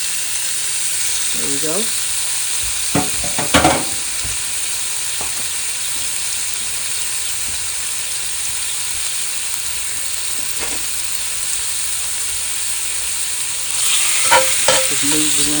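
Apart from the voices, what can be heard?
food frying and sizzling in a pan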